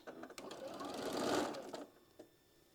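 A sewing machine stitches darts into a fabric puff pouch, a steady mechanical whirr that builds in speed and then tapers off, close and alone.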